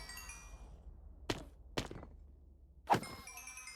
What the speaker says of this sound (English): the thump of them landing on the bricks is actually louder than the noise that they're making now